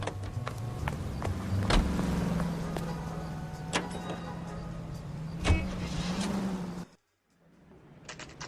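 A car in the video game L.A. Noire drives along with a steady engine hum and some sharp clunks and clicks, then cuts to near silence before a quieter hum resumes.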